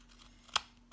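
A single crisp snip of scissors cutting, close and sharp, with the start of a second cut at the very end, over quiet room tone and no talking.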